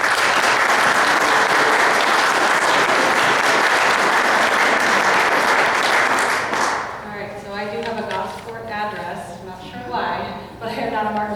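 An audience at a mayoral candidate forum in Martinsville applauds the moderator with loud, dense clapping for about six and a half seconds, then the applause drops out abruptly and a single voice speaks alone.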